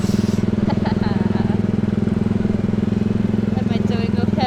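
Small gasoline engine of an Autopia ride car at Disneyland Paris, a steady, close, pulsing putter at constant loudness with people talking over it.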